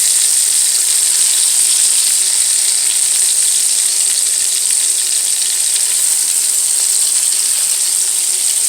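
Burgers frying in a pan, giving a loud, steady, close sizzle with a bright hiss that holds constant throughout, no voices.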